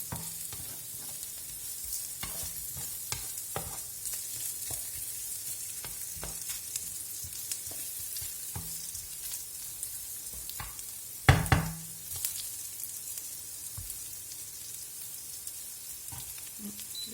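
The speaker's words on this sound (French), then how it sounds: "On va laisser mijoter et ce sera prêt." A home-cooked dish simmers in a pan on a stovetop, giving a steady, soft hiss and sizzle with a single louder clunk of the pan or utensil partway through. No voices.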